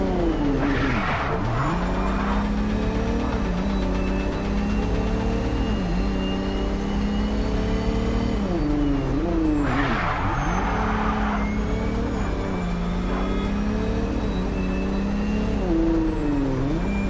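A car races at speed in a chase in the video game MindsEye, with a loud, constant engine roar, rising and falling revs, and tire skids, heard close and continuous with no talk.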